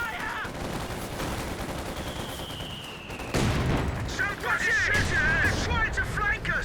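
Gunfire exchange in the Company of Heroes 2 video game during a 2v2 match, with bursts of shots and combat noise building to a loud, dense clash in the second half, under continuous game sound.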